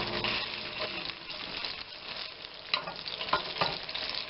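Pork sizzles and fries steadily in a hot pan while being browned for an Irish pork stew, a continuous crackling hiss with a few sharper pops and stirring noises, close and fairly loud.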